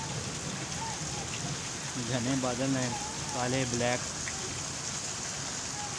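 Heavy rain falls steadily as a dense, continuous hiss, with someone talking over it in Urdu for part of the time under dark clouds.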